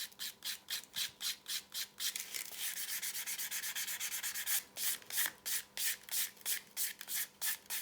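Quick, rhythmic rubbing strokes close by as a finish is smoothed by hand into leather for a carved saddlery handle, a steady scratchy back-and-forth that speeds up briefly midway, quiet and without talk.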